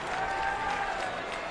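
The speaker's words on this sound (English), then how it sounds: "Wolfpack getting good news as the crowd in red erupts now." Crowd in red cheering and applauding at an NC State versus Duke college baseball game, a dense, steady roar of many voices and claps sustained throughout without a break.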